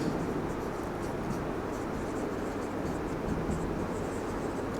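Marker or chalk scratching steadily on a board during a chemistry lesson, a continuous dry scraping texture close by with no talk over it.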